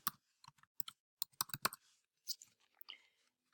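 Bursts of typing on a computer keyboard, with short clusters of quick key clicks separated by brief pauses, close and fairly quiet with no talking.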